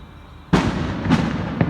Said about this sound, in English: there they go with the fireworks, the pagan ways